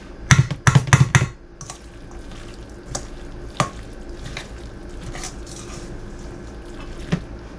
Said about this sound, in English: I suggest you use a really big bowl and get it incorporated and mixed up.